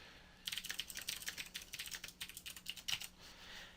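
Rapid keystrokes clatter on a computer keyboard while code is written, an uneven run of close, crisp clicks with short pauses over a faint steady hum.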